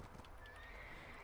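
A horse in the online game Black Desert whinnies briefly over a steady wash of game ambience, with a faint clip-clop of hooves; no one speaks.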